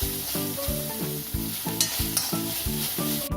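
Carrots and onions sautéing in a pan, stirred in steady strokes: about eight regular, close scraping sweeps ride over a continuous soft sizzle, with no talking.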